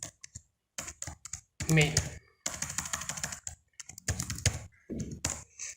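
Computer keyboard typing while writing Android code, with quick clusters of close, crisp key clicks separated by brief pauses and someone talking over parts of it.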